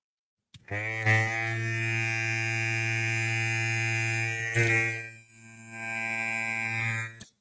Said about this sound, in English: A lot of these Clippers are just humming